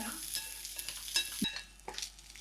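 Green chillies frying in hot oil in a pan for a cucumber roti pachadi, a soft, steady sizzle with a few light clinks of a stirring spoon; no voices.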